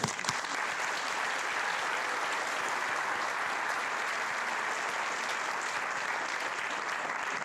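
Sustained applause from a seated audience at a Board of Education ceremony honoring retirees and tenured staff, a dense, even wash of many hands clapping that holds steady throughout with no voices over it.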